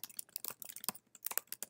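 Rapid, close typing on a computer keyboard, crisp clicks in uneven bursts with short pauses between them, heard alone.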